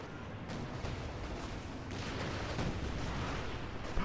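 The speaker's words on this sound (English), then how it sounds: "missing with the rocket shot" Rocket artillery fire in the strategy game Company of Heroes 2, a dense rumbling barrage of bursts and impacts that builds and stays loud throughout.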